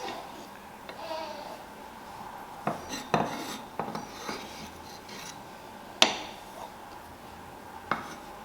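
A knife chops garlic, ginger, lemongrass and chilies on a cutting board in an irregular run of sharp knocks, some isolated and some in quick clusters, fairly close over quiet kitchen background.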